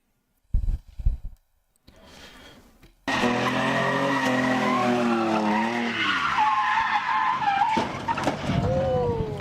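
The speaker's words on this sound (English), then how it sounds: "Never seen a truck drift before." Truck drifting in the Simdrift racing video game, a loud sustained engine roar with shifting pitch and tire squeal that begins after a few brief thumps and a quieter stretch, running steadily to the end.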